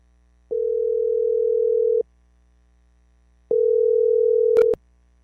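A telephone ringback tone sounds while a call is placed to someone named Donnie: two long, steady beeps separated by a pause, clear and close, with a faint click near the end of the second.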